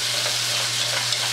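Vegetables sizzle steadily in hot ghee in a pot, with a continuous close frying hiss and faint stirring scrapes as the pieces are coated at the start of cooking a potato-chestnut soup.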